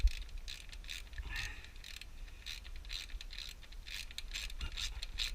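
A ratchet spanner tightens the race can support bolts on a Suzuki Bandit 650 motorcycle, giving quick repeated clicking strokes at close range with a few faint creaks.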